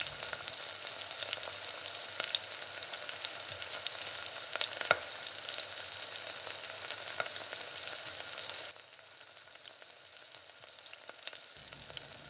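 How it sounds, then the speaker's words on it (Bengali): Rui fish frying in hot oil in a pan, being turned over, crackles with a dense steady sizzle and scattered sharp pops. Near the end it abruptly drops to a much quieter hiss. "মাছগুলো উল্টে পাল্টে ভেজে নেব।"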